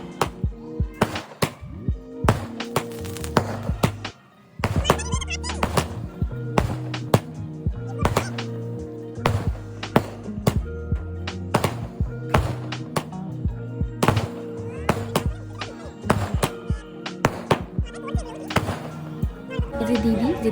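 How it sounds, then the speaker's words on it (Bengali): A 30-shot firework cake fires a long series of sharp pops and bangs in quick succession, heard over music playing in the background. "দেখো এটা 30 শটের একটা সেল"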